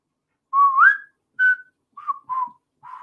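A man whistles a short tune up close, five clear phrases of rising and level notes separated by brief pauses.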